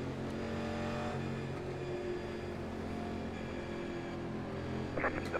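NASCAR race cars in iRacing, 1987 Legends at Darlington Raceway, accelerate at the green flag, a steady layered engine drone building at a moderate distance and continuing throughout.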